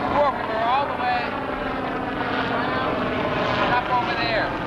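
A helicopter drones steadily overhead as a low continuous rotor and engine rumble while people talk nearby.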